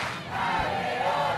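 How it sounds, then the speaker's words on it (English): A crowd cheers and shouts at the mixed ultimate frisbee final of the 2010 world club championship, a dense, sustained roar from spectators that swells slightly midway, with no clear talk on top. "they seem to be cheering a little bit more for Onyx, at least loudly"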